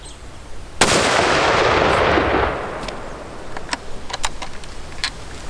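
A burst of airsoft rifle fire, part of a test of three factory rifles, one a Seiko 85 with a standard pad: a sharp onset, then about a second and a half of dense, loud shots, followed by scattered lighter clicks and snaps.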